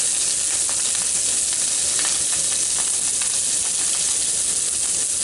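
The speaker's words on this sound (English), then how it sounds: "It is just cooking right along. And as I say, this is just frozen sausage." Frozen sausage sizzles and fries steadily in a pan, a loud, continuous crackling hiss with small pops and spatters throughout, no voices over it.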